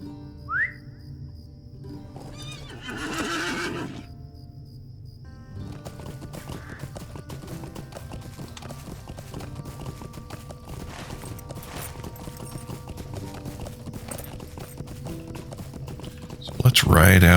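Horse hooves clip-clop steadily through most of a ride in The Lord of the Rings Online, a constant mid-level rhythm under game music, with a brief whistle near the start and a louder burst at the very end.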